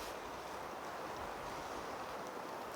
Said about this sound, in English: There's just a little bit of wind, and the wind is cool.